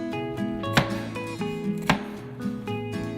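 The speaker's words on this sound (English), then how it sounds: "Ted is busy chopping away at some onions" Onions being chopped with a knife in a busy café kitchen, with a few sharp blade knocks on the board over steady kitchen background tones and hum.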